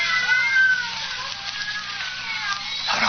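Several cats meow and caterwaul in a radio drama scene, their cries overlapping steadily for about three seconds amid faint background hiss.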